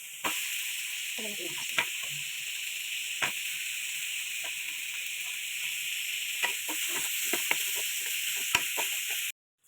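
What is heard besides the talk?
garlic sautéing in a pan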